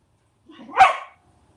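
Cosmo the dog lets out one loud, sharp bark that rises quickly and fades within half a second, heard alone in an otherwise quiet room.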